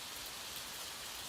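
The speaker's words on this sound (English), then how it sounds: "allow the gentle patter of rain to wash away the cares of your day" Steady, gentle rainfall makes a soft, even patter and hiss of drops, faint and unbroken, with no one speaking.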